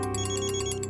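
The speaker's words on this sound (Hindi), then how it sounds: "क्या बात है मिस्टर विवान, ऐसा कौन सा जरूरी फोन कॉल है जो आप थोड़ा रुक नहीं सकते?" An incoming-call ringtone on a phone chirps in a quick, steady repeating pattern during a tense crime-drama scene, loud and close with a low steady hum beneath and no talking.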